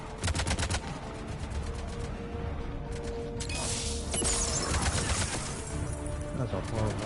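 Gunshots in Mass Effect 3, bursts of rapid automatic fire near the start followed by scattered shots amid a dense battle din, loud and close, with bird-like cooing noises mixed in.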